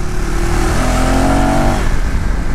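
A KTM Adventure 390X single-cylinder motorcycle engine is revved from about 4000 RPM, a loud, close, steady drone that rises in pitch before settling, with no one talking.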